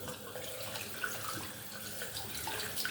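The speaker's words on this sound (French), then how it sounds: "on va un peu le rincer pour que toutes les saletés partent" An aquarium decoration is rinsed under a running tap, a steady close splashing gush of water with no voices.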